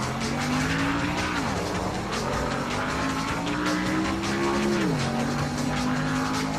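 Race cars in NASCAR Thunder 2000 on a practice lap at Pocono roar steadily, engine pitch dipping and rising through corners with tire squeal, loud and continuous without talk.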